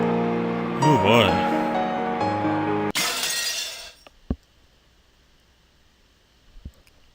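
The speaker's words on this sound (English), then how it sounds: "Yeah, the glass broke." Glass shatters in a sudden bright crash that follows a stretch of sustained tonal sound, then a few small tinkling fragments fall and settle into near silence.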